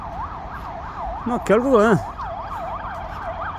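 An ambulance siren wails in a steady rising-and-falling pattern, with a louder swooping yelp burst in the middle, as someone briefly speaks over it.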